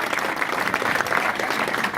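A press-conference audience gives steady, moderately loud applause for Belle Vue Aces speedway rider Craig after the Somerset match.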